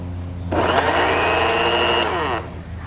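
A blender purees cooked vegetables, starting abruptly into a loud, steady motor whine with a churning tone for about two seconds before cutting off, close by and with no voices.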